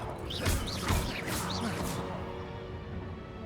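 Pots smashed in Hogwarts Legacy gameplay: a few quick breaking crashes and whooshes in the first two seconds over steady game ambience, fading afterward.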